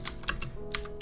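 Someone types a Linux install command on a computer keyboard, producing quick, close, uneven key clicks, about six strikes in a second, over a quiet room hum.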